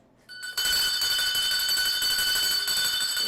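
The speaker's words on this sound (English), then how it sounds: "Ring the bell, you have a winner." A bell rung to mark a quiz winner, starting after a brief quiet moment and then sustaining as a steady, bright, loud ringing with shimmering high tones, close and alone.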